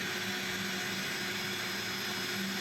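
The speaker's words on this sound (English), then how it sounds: "Bernard's taking a few minutes to vacuum up and clean up" A vacuum cleaner runs steadily and loudly while cleaning up after electrical work on a burned electric meter bank in Delray Beach, a continuous even roar with a faint whine over it and no pauses.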